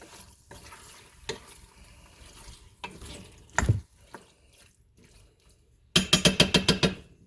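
Pork for tortillas cooking in a pan over medium heat, with a soft steady sizzle broken by a few clanks and scrapes, then a quick run of sharp rhythmic clatters near the end.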